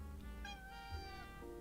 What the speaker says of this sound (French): Ah, t'as un petit chat.